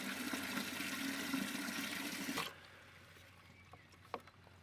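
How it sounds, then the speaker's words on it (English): Water rushing steadily into a watering can in a garden, a loud continuous pour that cuts off abruptly, followed by quiet with a few small drips and knocks. "So I'm just going to fill up a watering can"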